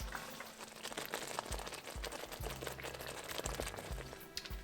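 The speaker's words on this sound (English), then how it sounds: "We'll cook the tomato puree down until it becomes a nice thick paste." Tomato puree simmers down into a thick paste for Indian kadai mixed vegetables, a faint, steady bubbling and popping with occasional low thuds from the pan, close but quiet, with no talk.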